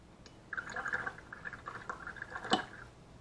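A watercolor brush is swished and dabbed in clean water, making soft, close, trickling splashes and light drips in a quick irregular series, with one sharper splash near the end.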